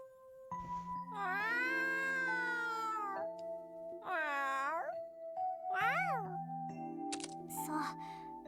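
A cat meows in The Legend of Heroes: Trails to Azure, with drawn-out, pitch-bending game cries over steady music, plus a short rising yowl and a few chiming tones near the end.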